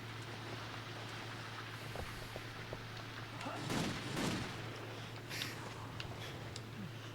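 Gunfire from shooting ghosts in the N64 game Castlevania: Legacy of Darkness: a few quiet, muffled shot bursts clustered in the middle, over a steady low hum.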